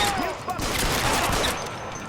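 Gunfire in the video game L.A. Noire: a dense burst of shots rings out close and loud at the start, trailing into noisy game ambience with no talking.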